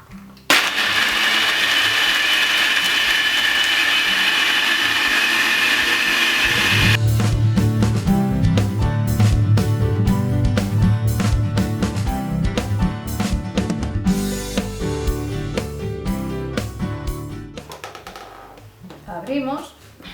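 A powerful food processor grinds hard tiger nuts in water, starting with a steady high whir, then shifting to rapid rhythmic chopping and rattling before winding down at the end.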